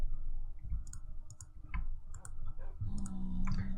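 Rapid mouse clicks in a game editor, sharp close taps scattered across a steady background of music and hum, with a few clustered double clicks.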